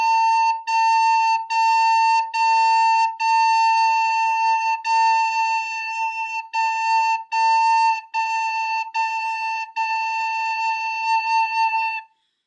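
A recorder plays a single steady A note in a series of clearly tongued, separated bursts, repeated evenly with short gaps between them.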